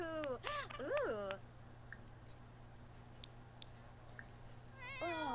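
A cat meows in The Sims 4: two rising-falling game-cat meows up close at the start, then a quiet stretch with faint small clicks, and another meow begins near the end, all over a steady low game hum.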